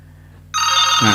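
A telephone begins ringing halfway through, a loud electronic ringtone with bright sustained tones that swells and continues to the end, rising over a low steady hum.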